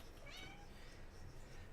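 Pet cat meowing off camera indoors, a single faint, brief meow over quiet room hiss.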